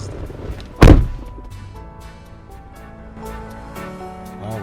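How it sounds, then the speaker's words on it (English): A single heavy thud of someone striking a door, loud and close, followed by a low rumble and quieter room sounds. "Why would this guy hit my door like this?"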